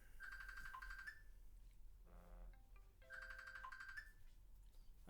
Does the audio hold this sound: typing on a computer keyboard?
no